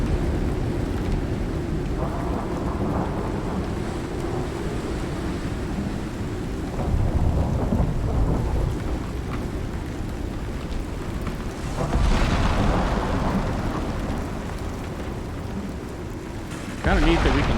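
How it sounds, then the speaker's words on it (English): Thunderstorm with heavy rain in the survival video game ICARUS, a steady loud roar of downpour with low rumbling swells of thunder rolling in several times. "Kind of neat that we can sit here and watch the storm."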